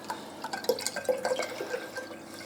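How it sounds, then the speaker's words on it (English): Water gurgling and trickling through PC watercooling radiators with trapped air bubbles, a soft, close bubbling with irregular drips and little splashes. "I can hear a lot of gurgling coming from the radiators"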